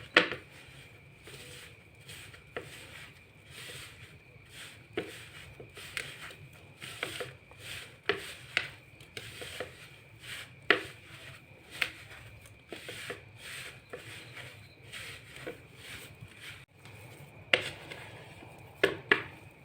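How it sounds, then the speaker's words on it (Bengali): Boiled potatoes are mashed and kneaded by hand with rice flour in a kitchen, giving irregular soft squelches and sharp clicky taps that repeat close by over a faint background hiss, with no speech. "আলুটাকে আমি এখন ভালো করে মেখে নেব।"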